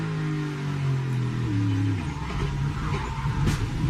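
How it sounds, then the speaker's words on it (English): Purple number 11 Chevrolet NASCAR stock car at the Grant Park 220 street race in Chicago, its engine loud and close as revs drop and the car loses grip and slides through a corner, followed by a rough, grinding tail. "that purple 11 just gets in the corner, loses grip, and slides into the tire barrier"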